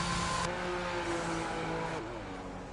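A race car in a Singapore race, likely a sim racing league, drives down pit lane with a loud, steady engine drone whose pitch shifts as it slows, close and continuous.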